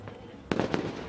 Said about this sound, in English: the fireworks here at Arromanches have just started